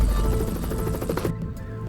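Military helicopter ferrying equipment between land and a stranded ship, its rotor thumping steadily and loudly, then cutting off abruptly near the end.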